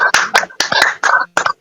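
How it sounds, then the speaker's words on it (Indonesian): Audience at a health talk on natural living, welcoming Dr. Iskandar Junaidi, gives a short burst of clapping in uneven clusters, fairly close and bright, with no talk over it. "Marilah Bapak Ibu kita sambut dengan aplaus yang luar biasa untuk Bapak Dr. Iskandar Junaidi"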